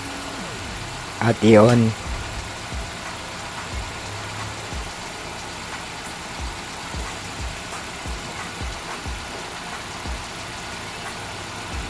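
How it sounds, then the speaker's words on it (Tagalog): A Hyundai Getz engine cranks briefly and catches, then settles into a steady, low idle with soft rhythmic knocks; a voice speaks briefly near the start. "Sunod, maaari nang i-start yung engine."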